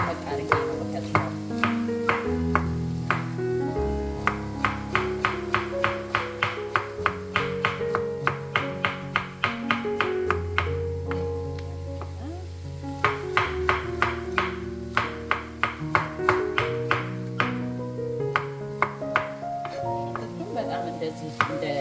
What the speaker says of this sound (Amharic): አበባ ጎመኑን እንደዚህ ደመቅ አድርጌ ነው የምከትፈው።